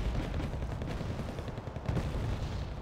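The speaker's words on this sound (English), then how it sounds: "Afghanskis and infantry opening up fire down here" Dense infantry gunfire crackles nonstop in Wargame Red Dragon, a thick, rumbling barrage of rapid shots and booms blending together at a steady loud level.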